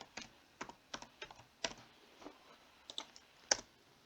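Keys on a computer keyboard clack in irregular bursts as code is typed, each stroke a crisp, close click with short pauses between runs.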